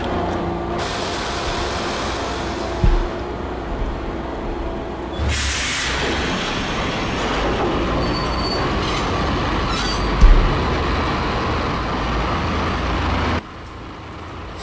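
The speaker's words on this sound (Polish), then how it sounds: "Ach, pociąg, metro to jest." Metro train ride in the video game Max Payne, a loud continuous rumble of wheels on rails with squealing metal and clattering bumps, steady throughout and cutting out near the end.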